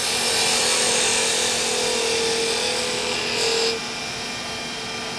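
A skew chisel shears across the end grain of a piece of wood spinning on a lathe. It makes a steady, close, rasping hiss that runs for a few seconds, then cuts off, leaving a quieter machine hum.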